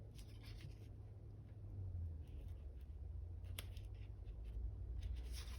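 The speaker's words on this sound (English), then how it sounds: "I think I could cut those leaves off" Scissors cut leaves off a small paper craft piece with faint, close snips and rustling paper over a steady low background hum.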